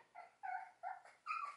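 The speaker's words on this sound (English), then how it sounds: "gonna go deal with this whiny pup" A pet dog whines in a few separate, faint high-pitched whimpers with brief pauses between them, alone with no talking.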